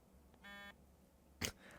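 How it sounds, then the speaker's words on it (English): A phone set to vibrate in a quiet room buzzes in one short burst, followed moments later by a sharper rattling buzz. "Why does putting a phone on to vibrate make a lot of noise?"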